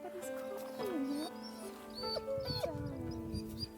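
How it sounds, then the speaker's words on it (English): A dog whimpers and cries inside a haunted monastery, thin rising and falling whines repeating over a steady, muffled background drone. "Oh, there's a dog in the haunted monastery. Oh, but he's crying."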